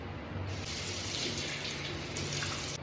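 Tap water runs steadily into a sink during face washing, a loud, continuous close hiss with slight shifts in tone as hands move through the stream, no talking.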